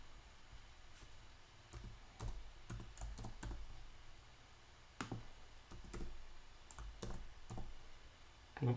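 Computer keyboard typing in a quiet room, a run of soft, irregular key clicks with short pauses between bursts, close and fairly faint, with no one talking.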